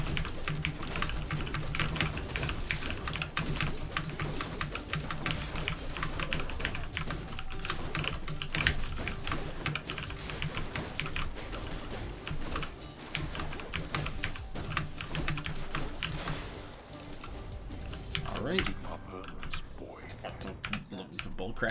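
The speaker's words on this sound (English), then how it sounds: "Keyboard gives good ASMR. It's a good mechanical keyboard for you, man." Fingers type on a mechanical keyboard in a fast, dense, continuous clatter of clicky keystrokes that runs unbroken for about twenty seconds, close and steady.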